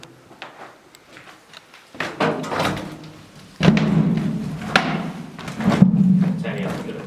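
Footsteps thud down steps inside an underground tunnel, a series of irregular hollow thumps growing heavier, with people talking over them.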